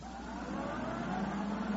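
A getaway car speeding off in a radio drama, a steady mid-pitched engine revving under faint hiss, fairly quiet and continuous with no voices over it.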